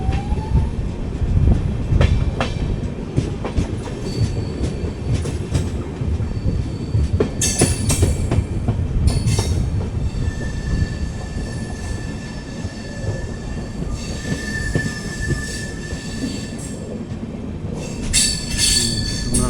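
A 22616 Intercity Express train with LHB coaches rolls toward Pakala station. Close, steady wheel and rail rumble runs throughout, with bursts of high wheel squeal and a sustained whistle-like tone partway through.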